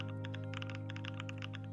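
Rapid keystrokes on a computer keyboard clack in quick uneven bursts over a steady low electrical hum, close and fairly quiet, with no voices.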